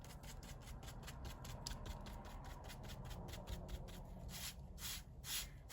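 Pastels are scraped across label paper in a quick, rhythmic run of short rasping strokes. They are soft and close, and they speed into denser scraping toward the end.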